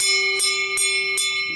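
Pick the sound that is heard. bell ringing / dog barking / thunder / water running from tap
bell ringing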